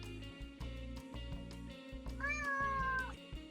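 Marty the cat lets out a single drawn-out, rising meow close by, over a low steady background hum.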